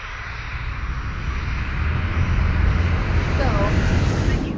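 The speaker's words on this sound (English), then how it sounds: "So, we finally took off." Steady loud roar of an Emirates airliner's engines heard from inside the cabin during takeoff, the rumble building and staying strong throughout with no talk.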